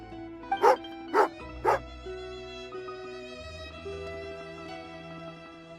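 A dog in the video game Everwinter gives three sharp barks in quick succession near the start, then falls quiet while steady game music plays on.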